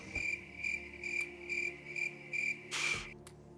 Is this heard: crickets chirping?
yes